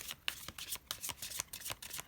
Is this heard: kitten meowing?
no